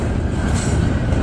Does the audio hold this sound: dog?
no